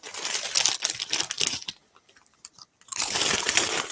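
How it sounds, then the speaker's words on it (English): Potato chips crunched while being eaten, loud and close, a dense run of crisp bites that stops briefly and then resumes. "Listen to those chips going."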